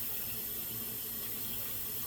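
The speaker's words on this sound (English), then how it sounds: "I'm going to add a can of water to that" Tap water runs steadily into a can for peach cobbler, a continuous close hiss and splash with no pauses.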